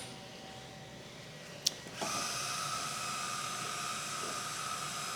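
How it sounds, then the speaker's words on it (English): Maslow CNC machine motors paying out belt, a small click followed by a steady whirring hiss that starts abruptly and holds evenly, moderately loud and close. "press extend all again, and the machine will now let us extend out that extra bit of belt that we need"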